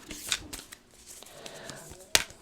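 Tarot-style archetype cards are shuffled and riffled by hand in short, crisp flutters, with a sharp snap of cards near the end, close up and fairly quiet.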